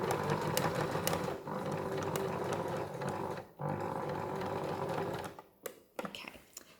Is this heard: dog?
no